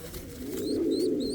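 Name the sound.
small bird chick calling, pigeon-like cooing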